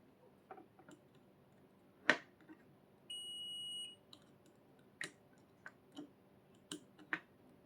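A multimeter set to buzzer mode emits one steady high beep lasting under a second during a Canon G2010 power supply repair, surrounded by scattered small clicks and probe taps in a quiet room.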